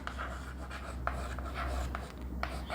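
Pen scratching out an answer on paper during a Class 9 number systems maths lesson, a steady run of soft, close scribbling strokes with brief pauses and no talk.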